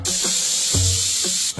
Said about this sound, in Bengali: 3টে সিটি দিয়ে নিয়েছি।